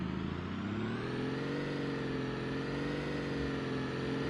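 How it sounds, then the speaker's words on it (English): Steady drone of a V10 engine revving in the BeamNG driving game, loud and close, with a smooth harmonic tone that rises slightly in pitch and holds without a break. "if this is based off realism, it's a pretty darn good sounding V10"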